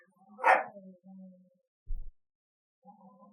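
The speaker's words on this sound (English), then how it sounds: "I keep hearing the big dog." A big dog gives a single loud bark close by, followed by a low thump and a faint, brief trailing sound, with quiet gaps in between.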